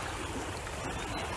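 Creek water rushing steadily over an eroded Wisconsin trail in spring, a continuous broadband wash close by with no talk over it.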